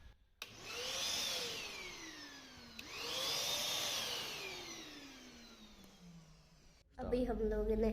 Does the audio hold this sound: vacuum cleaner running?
yes